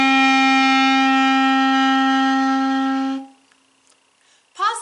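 Clarinet sustaining a single steady note D, one clean held tone lasting about three seconds before cutting off into near silence, played close and alone.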